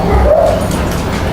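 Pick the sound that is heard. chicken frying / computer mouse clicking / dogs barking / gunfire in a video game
dogs barking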